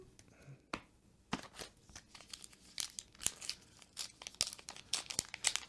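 A Star Wars Unlimited Spark of Rebellion card pack wrapper is torn and crinkled open up close, a rapid series of sharp crackling rustles after a couple of isolated crinkles.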